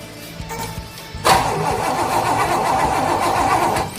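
The engine of a 1973 Corvette with no spark is cranked, giving a sudden loud start to a steady churning roar that continues for a few seconds without firing.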